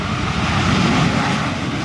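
A MiG-21 jet fighter roars close and loud, a steady, broad engine rush that holds constant throughout with no voices.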